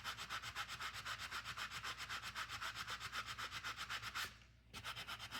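Wire earring piece being rubbed up and down by hand, a steady rapid scratchy rhythm of close strokes that pauses briefly near the end before resuming.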